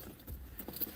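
Car keys jangle in a few quick, close metallic clinks over a low vehicle rumble, with no talking.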